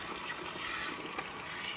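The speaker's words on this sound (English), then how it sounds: "we're just rinsing the hair until there are no bubbles left" Water runs steadily from a salon sink hose, rinsing shampoo out of hair with a continuous splashing wash that stays close and even throughout.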